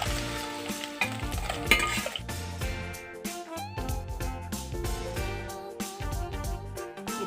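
Pieces of fish fry in hot oil for a home-cooked fish and tomato dish, giving a steady crackling sizzle with intermittent metallic clinks and scrapes of a utensil against the pan.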